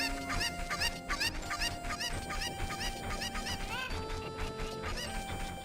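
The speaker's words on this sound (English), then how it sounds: "I'm just going to collect some chickens here." Video game chickens from The Legend of Zelda: Ocarina of Time cluck repeatedly in quick bursts, high chirpy squawks layered over looping game music.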